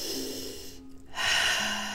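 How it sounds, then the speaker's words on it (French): A person drawing a breath in through the nose during a beginner Pilates exercise, heard as a short, close, airy sniffing rush that swells after a brief pause, with no talking. "Inspire par le nez."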